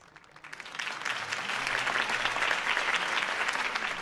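Applause from a crowd in a video game swells after a quiet start and keeps going steadily, a dense patter of many hands clapping.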